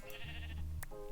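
A sheep in the video game Minecraft gives one short, wavering bleat, close and clear over faint background game noise, with no talking.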